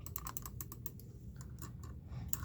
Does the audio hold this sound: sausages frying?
no